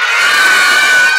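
Kids shout loudly together at a clown-hosted birthday party, a dense, sustained, high-pitched crowd scream that fills the whole moment, close and intense.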